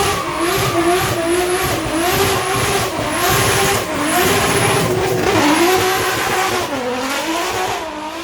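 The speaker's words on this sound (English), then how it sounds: "Because you're burning up so much rubber." Race car with about 1200 horsepower drifting hard, engine wailing at high revs with sweeping pitch changes over a constant loud tire squeal and skid, continuous and close throughout.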